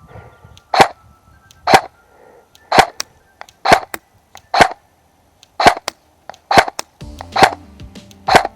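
A Double Eagle M904G airsoft gun firing outdoors, about ten sharp, loud, close snapping shots spaced roughly a second apart, with a faint mechanical whir between shots toward the end.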